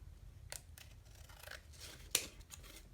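Scissors snip through paper and journal bulk being trimmed during hinged winter journal making, a few close, sharp cuts with one crisp louder snip near the end over quiet room noise.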